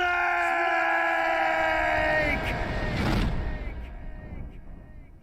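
A character in Metal Gear Twin Snakes screams in a long, strained, wavering cry over loud game noise, then a sharp burst and a fading rumble.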